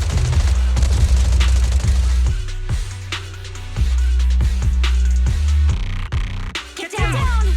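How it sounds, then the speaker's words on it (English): Heavy gunfire in the video game Zenless Zone Zero, with dense bursts and booms layered over a loud, steady music and effects bed, no pauses. "Gunfire? This pattern. Suppressive marching fire."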